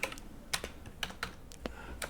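Computer keyboard keys tapped in short irregular bursts while a database name is entered, sharp close clicks at a quiet level with no voice.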